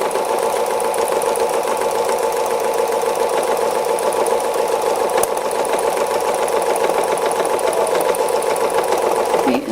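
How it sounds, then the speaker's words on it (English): A sewing machine does free-motion stitching on an owl wall hanging, its needle hammering in a fast, even mechanical rhythm that runs loud and unbroken at close range. "I'm going to just stitch around this mid-brown."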